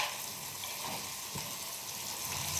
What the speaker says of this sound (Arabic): دابا الحيمات كيتقلاو